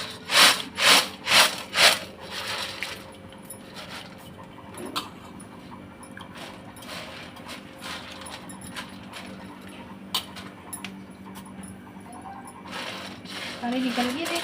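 A coconut being grated by hand, a few loud rhythmic rasping scrapes at the start followed by quieter scattered scraping and clinks, with people talking in the background.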